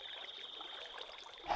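Flowing water in the factory-building game Manufactio trickles steadily and faintly, a soft continuous burble with no talk over it.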